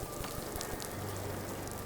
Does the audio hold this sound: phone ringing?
no